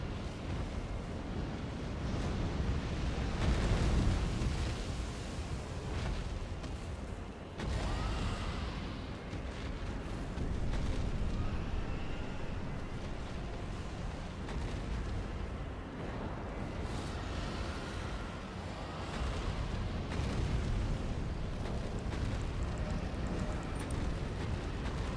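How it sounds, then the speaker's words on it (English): A boss in the video game Region Locked breathes fire, a sustained, loud, roaring rumble with crackling bursts that continues for the whole stretch without pause. "he breathes fire in my direction"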